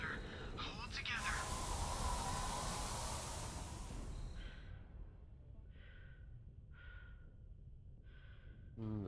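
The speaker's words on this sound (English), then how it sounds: "Silence. Just your breathing." Suit breathing in the vacuum of space in Mass Effect 2, a long loud hiss of air that fades, followed by a series of slow, rhythmic muffled breaths in near silence.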